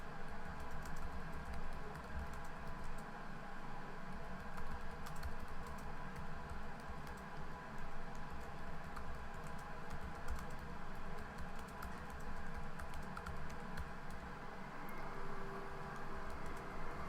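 Steady typing on a computer keyboard while writing a short gallery introduction in WordPress, a continuous dense patter of key clicks at close range over a constant background hum, with no talking.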